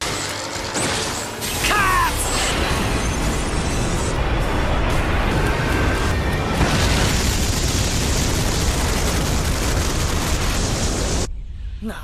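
A big blast in the Naruto Shippuden anime erupts into a long, loud rumbling roar that sustains for about ten seconds before cutting off sharply, preceded by brief whooshing effects.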